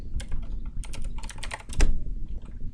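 Rapid clicking on a computer keyboard while writing Unity code for a first-person controller, uneven bursts of close, crisp keystrokes with short pauses between, no voices.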